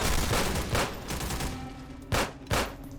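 Gunfire in the Half-Life video game at a factory, rapid bursts of shots with sharper single blasts standing out near the end, loud and up close with no talk.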